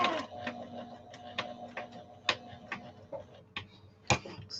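A sewing machine stitching a fancy fabric shopping bag and backing up a single stitch, heard as a run of light mechanical ticks and clacks close by, with a couple of sharper knocks.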